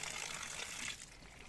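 Fresh mountain water trickles from a bamboo spout, a soft continuous splashing that is close and fairly quiet and eases slightly partway through, with no one speaking.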